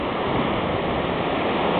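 Steady, loud roar of sea waves and surf close by, a continuous broadband wash with no distinct breaks.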